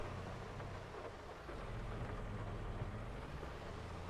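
Steady rain with a low rumble of thunder in the Farming Simulator 22 video game, a constant dense wash of downpour that holds for the whole stretch with no talking.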